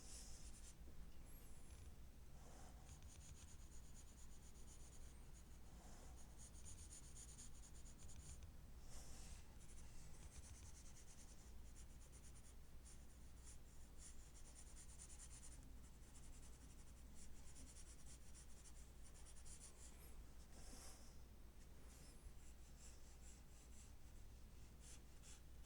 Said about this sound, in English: I find that sometimes just going in with the side of the pencil is the best way